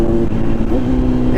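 A Kawasaki motorcycle engine, a remapped Z900 or Vulcan S, drops down into third gear, its steady low drone shifting pitch briefly, close and moderately loud.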